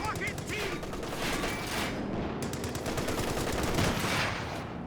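Rapid bursts of small-arms and machine-gun fire crackle through a Company of Heroes 2 multiplayer battle, dense overlapping volleys running steadily throughout with no speech.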